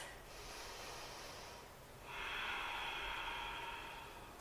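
An exercise instructor takes a big breath during a barre class, a soft airy inhale followed by a longer, louder exhale, close and quiet with no talking.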